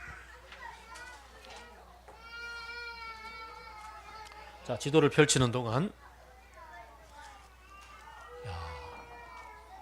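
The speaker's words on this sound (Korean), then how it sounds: "애기들 소리도 들리고 아주 좋습니다" Babies and young children babble, squeal and call out in a church room during a Sunday sermon, with one loud burst of a child's cry in the middle while an adult speaks over them.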